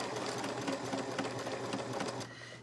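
A sewing machine stitches along a curvy line, its needle running in a fast, even rhythm with a steady motor hum, fairly quiet and ending as it slows at the close.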